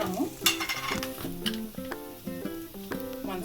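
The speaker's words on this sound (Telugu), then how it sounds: "కలర్ కొంచెం చేంజ్ అయ్యేంత వరకు ఫ్రై చేసి" Soya chunks frying with coriander, cumin and chilli powders, a soft sizzle punctuated by repeated metallic clinks and scrapes of a spoon stirring against the pan, close and fairly quiet.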